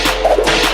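Sharp whip cracks, a quick swishing snap repeated within a fraction of a second, loud and close with no voices.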